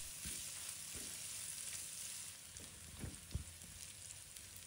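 Minced garlic sizzles and fries in a wok with pork belly, a steady soft crackle with a few faint spatula scrapes.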